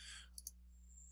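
Two quick, faint clicks from a computer mouse or keyboard key, close and isolated against a quiet electrical hum.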